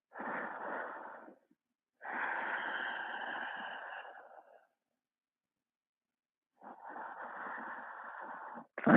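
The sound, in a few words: Ujjayi breathing during yoga flow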